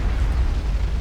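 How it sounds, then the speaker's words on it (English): A nuclear blast wave detonating in the real-time strategy game Supreme Commander: Forged Alliance, a loud, dense low rumble that roars continuously through the moment with no talk over it. "the blast wave deleting all of those missile launchers"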